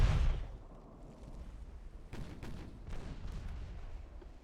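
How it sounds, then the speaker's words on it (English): Warship main and secondary batteries firing in the naval game Ultimate Admiral: Dreadnoughts, one heavy booming shot up front followed by scattered fainter distant gunfire rumbling over steady background noise, no talking. "With both main and secondary batteries firing the inappropriate kind of ammo, because that's all they have left."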